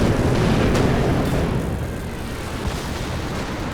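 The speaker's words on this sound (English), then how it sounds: "Bit of a dive bomb there to close the show" A dive bomb explodes in the video game Company of Heroes 2 during a 4v4 battle on the Lanzerath map, a loud, sustained, rumbling blast that rolls on and slowly fades.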